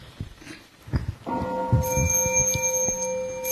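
A Buddhist temple bell is struck once during a Sunday service, its bright, sustained tone ringing out and slowly decaying over low murmuring room noise.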